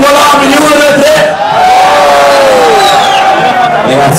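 Dense crowd of men at a New Year's Eve party in a Forte dei Marmi club, shouting and whooping together in a loud, sustained roar with rising voices throughout.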